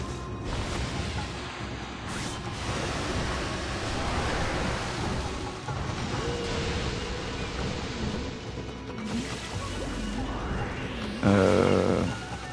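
Continuous water wash with the player character in the water in the Okami video game, a steady broadband rush that holds throughout and swells briefly near the end.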